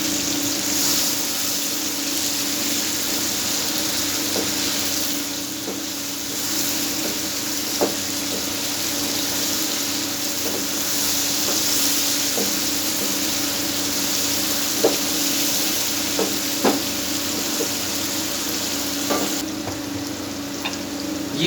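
Sliced garlic sizzling in hot oil for chicken tikka, a steady close frying hiss with occasional small pops and crackles throughout.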